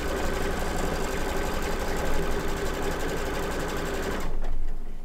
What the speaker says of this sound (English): we're gonna do our cover stitches, or sorry, our tack down stitches.